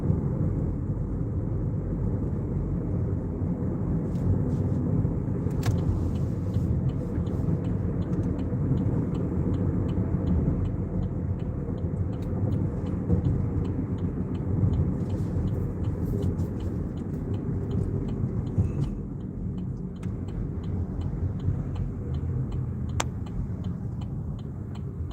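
A car drives steadily along a winding maze of roads, heard from inside as a constant deep engine and road rumble, with a few faint ticks and clicks and no talking.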